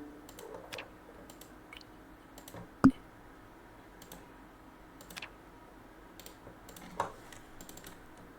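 Sparse clicks and ticks sound one after another as short sound effects are tried out for a dinosaur game, with one sharper, louder click near the middle, all over a quiet background.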